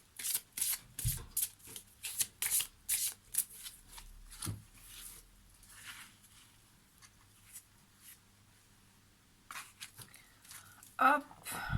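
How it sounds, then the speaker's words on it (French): Tarot cards are flipped and tapped by hand into order, a quick run of crisp card snaps and shuffles followed by quieter handling and a few more sharp taps, close by, with someone talking. "j'ai quelques cartes à l'envers, donc je les remets dans l'ordre vite fait"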